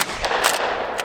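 A Winchester 97 shotgun slam firing slugs produces loud, close blasts in quick succession, with several sharp reports overlapping into a continuous roar within about a second.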